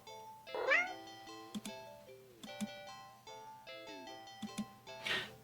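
Cat meowing in the video game Do Not Take This Cat Home, several short meows spaced across the stretch over a soft chiming game melody, with no talking.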